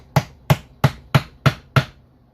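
Six sharp metallic knocks at an even, steady pace, a small screwdriver driven against a part during a MAXA transmission teardown, close and clear with no talking.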